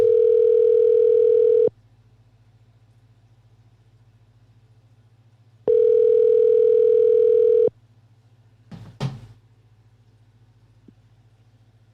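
A telephone ringback tone sounds as a call is placed: two long, steady, loud tone bursts about four seconds apart over a low constant hum, followed by a brief rustle and click.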